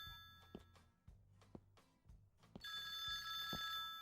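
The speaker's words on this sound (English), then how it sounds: "The phone is ringing." Telephone in a horror video game rings in repeated bright electronic bursts, several rings spaced about a second apart, growing denser and louder toward the end with a sustained tonal buzz.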